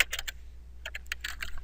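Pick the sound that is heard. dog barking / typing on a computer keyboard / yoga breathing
typing on a computer keyboard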